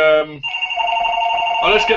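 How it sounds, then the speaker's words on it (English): A telephone ringing in a room, a sustained electronic tone with a brief second ring starting at the end, fairly loud and close, with a voice speaking over the start. "Here comes the phone again."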